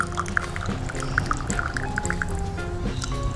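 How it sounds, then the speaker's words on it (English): Coffee drips from a lifted brew bag into a cup, a run of small, quick liquid plinks and trickles, close and clear, over a soft steady background. "let it drip down a little bit"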